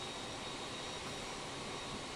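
An airliner taxiing in a flight simulator gives off a steady, even jet-engine roar, constant and fairly faint throughout.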